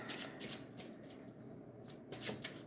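Tarot cards are shuffled close by, a series of quick papery riffles and flutters in repeated short bursts, quiet and alone.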